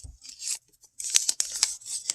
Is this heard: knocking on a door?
no